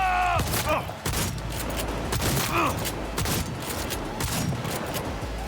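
Booming shotgun blasts in the video game Cyberpunk 2077, several loud shots spread across a dense firefight with other gunfire and shouting voices underneath.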